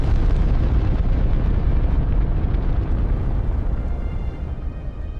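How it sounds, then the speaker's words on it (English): Eruption of Mount Tambora on Sumbawa island in 1815: a loud, continuous roaring rumble of explosive force, heavy in the low end, sustained throughout and easing slightly toward the end. "April 10, 1815, Mount Tambora on the island of Sumbawa explodes."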